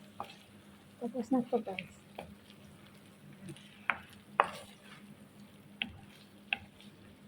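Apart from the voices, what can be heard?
food frying in oil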